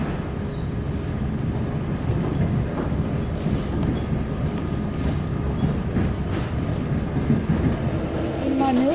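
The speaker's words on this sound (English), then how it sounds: "In Marnova, there still exists a train which operates since Soviet times." A Soviet-era train still in service runs toward Tbilisi, its steady rumble and rolling rail clatter continuous and close, with some voices faintly present underneath.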